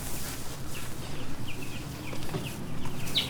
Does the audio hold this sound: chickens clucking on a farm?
yes